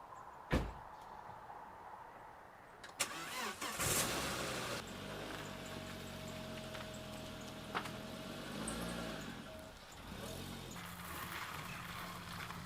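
A car engine turns over and starts after a door thud near a cottage in Sweden, then settles into a steady low idle with faint clicks and rattles, heard close by.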